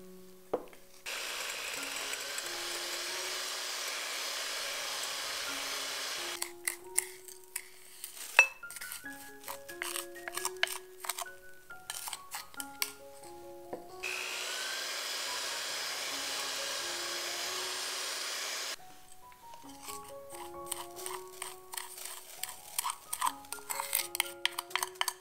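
An electric mixer whirs steadily at medium speed while beating eggs and sugar for a Portuguese sponge cake, with long stretches of motor hum broken by clinking taps of the beaters against the bowl.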